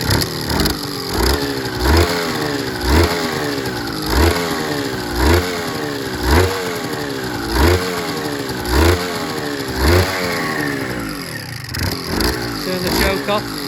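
A recommissioned Suzuki RGV250M-SP two-stroke motorcycle revving with the choke on, its engine swelling in a steady series of about a dozen sharp blips over a rattly idle, loud and close.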